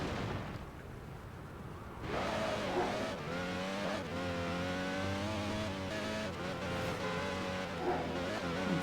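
Race car engines roar at a race start in a video game, several cars revving hard together with rising, overlapping pitches, loud and continuous after a quieter opening.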